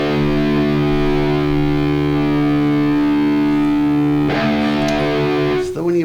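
Electric guitar with its low E string tuned down a whole step to drop D, a loud sustained distorted low chord droning steadily, then a scraping string noise and a fresh strum near the end.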